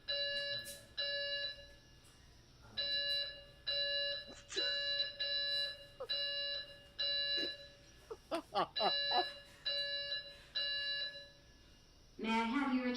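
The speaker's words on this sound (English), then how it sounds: "fire alarm going off." A building fire alarm pulses in a repeating on-off pattern of steady electronic tones, interrupted by short bursts of sound and followed by the start of a spoken evacuation announcement.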